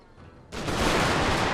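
Gatling guns opening fire in the strategy game Total War: Shogun 2 Fall of the Samurai, a sudden onset into a dense, continuous roar of rapid gunfire that holds loud to the end.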